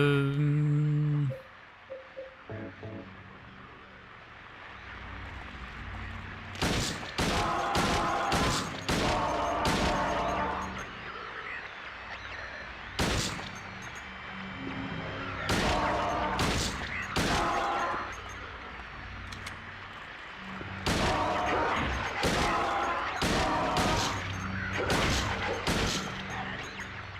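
Gunfire in the Silent Hill 2 remake video game comes in repeated loud, sharp bursts, clustered shots recurring in several volleys across the stretch with quieter gaps between.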